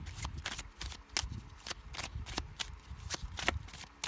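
Tarot cards are shuffled from a deck, a rapid close riffling of crisp paper flicks in quick irregular bursts, with no talking.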